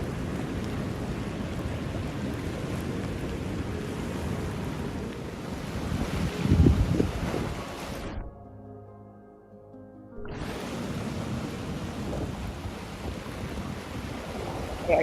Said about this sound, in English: at high tide, the water from the river actually comes over and makes it into Harbor Park